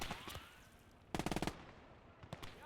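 An MG42 machine gun fires in the World War II game Gates of Hell, set in Stalingrad: one dense close burst of about eight rapid shots, with scattered thuds and fainter gunfire before and after.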